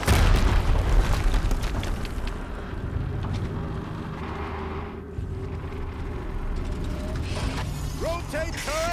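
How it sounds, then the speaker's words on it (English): Explosions and heavy mechanical clanking from the video game Horizon Zero Dawn, a dense, loud rumbling mix with booming bursts and ratcheting machine noise running throughout, rising chirps near the end. "Another explosion."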